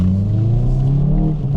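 A Hyundai i30N pulls away from a junction with its tyres spinning, the engine holding a loud, steady rising drone with a low rumble underneath, heard from inside the car.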